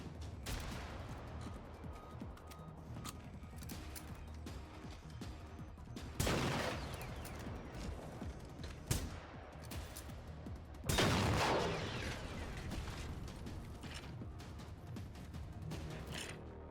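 Shotgun fire in the video game Generation Zero, with a few sharp blasts standing out around a busy, continuous background of in-game action and noise.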